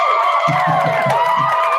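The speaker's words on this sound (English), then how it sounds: "smash that button that makes everybody cheer for you" Canned crowd cheering and whooping set off by a soundboard button, a busy wash of voices under a steady hum of talk and music, loud and continuous with rhythmic low thumps.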